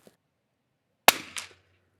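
Super BRNO SAA 2500 air rifle firing a single sharp crack after a near-silent pause, followed by a brief mechanical clatter, close and alone.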